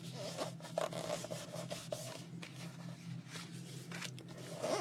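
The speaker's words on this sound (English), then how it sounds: "So now we can just fold through our book like that." Paper pages of a handmade journal being flipped and folded through, a continuous run of soft rustling swishes and rubbing scrapes close up, with brief crisp flicks as each page turns and no talking.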